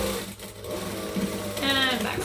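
A domestic sewing machine back stitches the end of a backpack seam, a close, steady mechanical whirr with a rapid needle rhythm running throughout.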